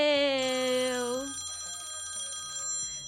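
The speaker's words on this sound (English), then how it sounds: "Y'all hear that bell?" A single bright bell rings out loud at the start, its tone gliding slightly before fading into a lingering metallic shimmer over a low background murmur.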